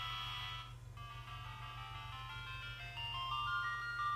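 Tinny chiptune Final Fantasy music plays from a WonderSwan Color handheld, a thin, beepy melody over a steady low hum, fairly quiet and alone without speech.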